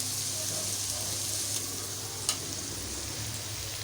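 Onion, tomato and green beans sizzle steadily in a frying pan, a continuous close crackle with a brief clatter near the end and no voices.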